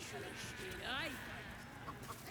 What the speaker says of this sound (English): It's a disheveled chicken.